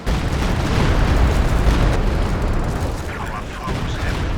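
A walking Stuka barrage in Company of Heroes 2 pounds the battlefield in a dense, continuous roar of heavy explosions and rumbling blasts, loud and sustained, tapering slightly near the end.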